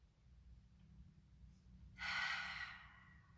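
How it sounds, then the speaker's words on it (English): A single deep breath is drawn and released during a yoga stretch, a soft airy whoosh lasting under a second against near silence. "One more breath."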